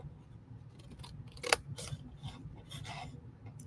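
Paper trimmed for a handmade card, a few short close-up cutting strokes and rasps with one sharp snip in the middle.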